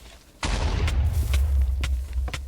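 A loud Minecraft explosion bursts in sharply after a short quiet lead-in, followed by a rumbling low-end tail with several smaller blasts and cracks scattered through the rest.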